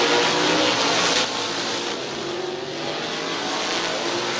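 Race cars roar around the track at Midvale Speedway, a steady engine drone that swells as cars pass close and then eases into a more distant hum.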